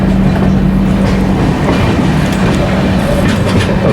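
The 12875 Neelanchal Express runs along the track via Lucknow near a dock platform, with a loud, steady rumble of wagons and wheels close by and continuous clickety-clack throughout.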